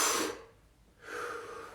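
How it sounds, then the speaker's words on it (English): A slow breath during a circular breathing exercise, a long breathy exhale fading into a quiet pause, then a steady inhale or exhale rising again, close and soft with no talking. "Again, circular breathing."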